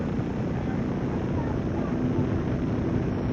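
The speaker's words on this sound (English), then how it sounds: "the EAA planes are flying over and taking a good look at Green Lake on their way up to Oshkosh" EAA aircraft heading to Oshkosh fly low over Green Lake during a baseball game, a continuous droning engine roar that fills the scene at steady volume.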